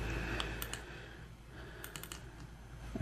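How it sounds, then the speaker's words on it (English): Mouse clicks in Excel: a few sharp, faint clicks, including a quick double click, in a quiet room with a low background hum. "I want to double click on the object."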